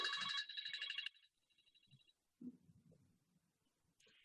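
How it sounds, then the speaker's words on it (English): A phone rings with an incoming call, a short burst of bright electronic ringtone followed by a fainter repeat, then quiet low rustling and a brief ring fragment at the close. "Here we have a phone call"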